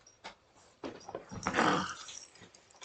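Bucky the dog gives a few soft growls and whimpers close by, in short bursts with one louder stretch in the middle, no talking over it.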